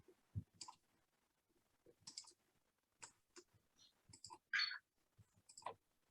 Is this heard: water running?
no